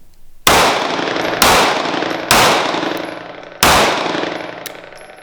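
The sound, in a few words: Sig P365 pistol shots fired while limp-wristing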